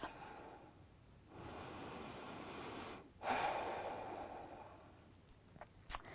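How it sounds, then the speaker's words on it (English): Slow, audible breathing during a yoga core workout, with a long soft exhale followed by a sharper inhale and a brief gasp, close and alone over a faint background hiss. "Connect with your breath."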